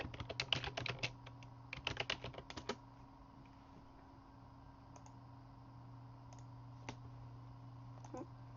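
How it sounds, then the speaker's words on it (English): A computer mouse clicks in quick, sharp bursts, dense at first and then sparse, while playing the PC game The Secret World, over a steady low hum. "I'm clicking."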